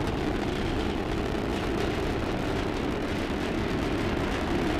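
Three rocket boosters firing at full power during the Orion first flight test launch, heard as a steady, dense roar of broadband rumble that holds constant and loud throughout.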